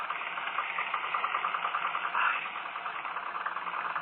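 A steam locomotive stands with its brakes hard on and the gear in reverse, the regulator open one notch, giving off a steady, close chuffing rumble with a rapid pulsing beat throughout.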